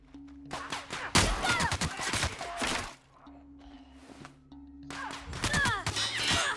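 Gunfire and impact crashes in the sci-fi shooter video game The Outer Worlds, in bursts of sharp bangs at the start and again near the end, with a quieter stretch between them and tonal game music underneath.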